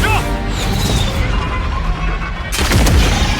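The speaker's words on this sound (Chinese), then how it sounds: "2号炮塔立刻开火！2 号发射" A ship's turret fires a shell in an animated sci-fi battle, a loud booming blast hitting at about 2.5 seconds over a dense rumbling battle din.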